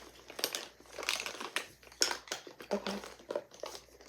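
A plastic bag and makeup bags crinkle and crunch in irregular bursts as they are rummaged through close up during a soft-spoken makeup session, with a brief word spoken once.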